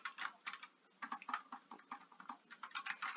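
Quick, light clicking of a computer keyboard as text is typed into Cricut Design Space, with a steady, close pattering of keystrokes and no speech.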